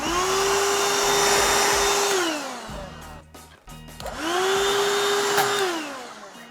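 A power drill bores through a fiberglass deck enclosure in two separate bursts. Each burst whines up to a steady pitch, holds for a moment, then spins back down. The drill is close and fairly loud.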